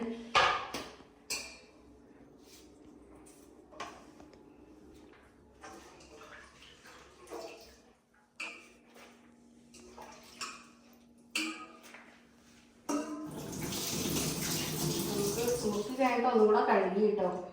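Vegetables are washed under a running tap in a kitchen sink. Soft knocks and clicks of handling come first, then the tap opens into a steady, fairly loud gush of splashing water near the end, with a person talking throughout.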